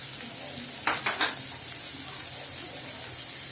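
Prawn and vegetable curry fries steadily in a pan with a continuous sizzle after turmeric powder goes in, with a few quick utensil scrapes and clinks near the start.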